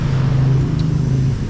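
Steady roar of road traffic on a street in the Philippines, a dense low engine hum of cars passing close by, continuous and fairly loud with no talk over it.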